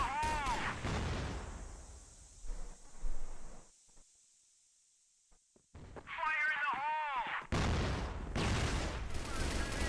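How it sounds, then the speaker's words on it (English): Grenade explosions from a tactical shooter video game during a competitive esports match, several loud bursts and booms clustered in the second half with a quieter gap before them, heard under continuous commentator talk. "Nice little nade stack there."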